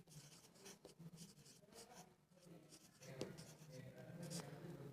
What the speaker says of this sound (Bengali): তাহলে আমি আবিষ্কারক লিখে দিচ্ছি